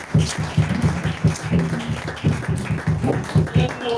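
A church congregation applauds to acclaim the king of kings, with uneven bursts of hand claps in irregular rhythm, fairly close and lively, with a few voices mixed in.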